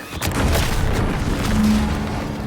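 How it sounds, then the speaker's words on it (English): An explosion in the video game The Outer Worlds 2 booms loudly and rolls on as a sustained heavy rumble that fills the whole moment. "What's that? An explosion?"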